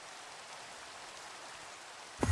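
Steady rain falls in Minecraft, a soft even hiss of drops that runs unbroken before a sudden louder noise cuts in at the very end.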